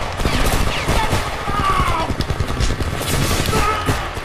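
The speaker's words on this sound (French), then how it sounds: "Mais qui me tire dessus?" Sustained automatic gunfire crackles in the video game Homefront, dense loud bursts overlapping with game sound effects and occasional thuds, alongside intermittent voices.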